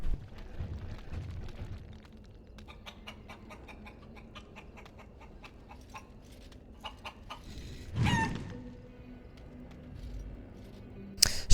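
Chickens clucking in the video game Dragon Age: scattered soft clucks and short bird calls over a quiet ambient background, with a brief louder burst midway and another at the end, no talk.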